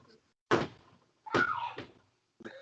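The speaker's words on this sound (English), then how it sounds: "Close the door." An indoor door thumps shut, followed by a second bump and a short knock, near and fairly loud, with brief quiet gaps between.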